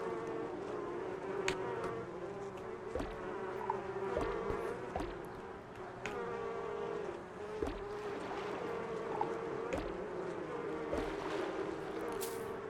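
Bees buzz in the Donut County video game as a soft, steady drone under a background music bed, with scattered light clicks and taps throughout.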